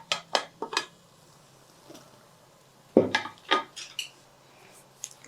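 A metal idli steamer is opened after cooking, with several sharp clanks and scrapes of the pot and lid in two bursts, fairly close with quiet pauses between.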